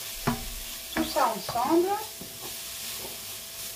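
Onion and garlic with curry paste are stirred in a hot pan, giving a few scraping strokes over a soft sizzle. Someone briefly speaks nearby.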